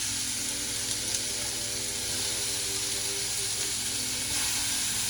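Lamb burger patties sizzle steadily in hot olive oil in a pan, a loud, continuous frying hiss heard close up with no talking.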